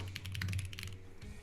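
Rapid keystrokes clatter on a computer keyboard, a steady run of close, crisp taps over a low hum with no talking.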